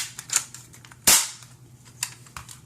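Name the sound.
Han Solo blaster airsoft gun firing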